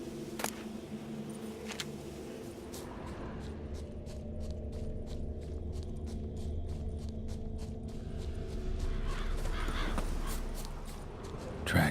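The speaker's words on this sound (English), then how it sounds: "Damn birds must have picked the ground clean" Crows caw in The Witcher 3, scattered calls over a low rumbling outdoor ambience that swells gradually toward the end.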